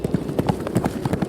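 Horse hooves clip-clop in a quick galloping rhythm in an audio drama, a fast run of close, clear hoofbeats as horses flee.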